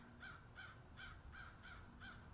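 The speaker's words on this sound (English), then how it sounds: "There's a crow." Crow cawing six times in an even, rhythmic series, each caw harsh and slightly distant, faint against a low background rumble.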